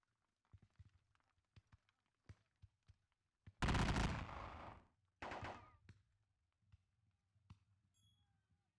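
Musket volleys ring out in a Napoleonic battle game set in the Leipzig campaign: two loud bursts of massed fire roar and fade over scattered faint clicks and a low hum.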